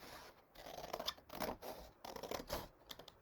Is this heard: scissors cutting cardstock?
yes